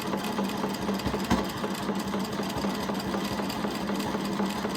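Sewing machine stitching mandala triangles on fabric, a steady fast mechanical whir with a rapid rhythmic needle chatter running the whole time, close and moderately loud, no talking.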